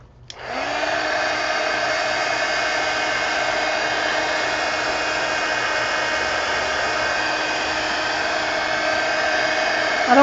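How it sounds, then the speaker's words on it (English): A heat gun blows steadily over wet paint on a mixed media canvas, a loud, continuous whirring hiss with a motor hum that starts abruptly and holds unbroken to the end, with no talk. "Oh, where's the heat gun?"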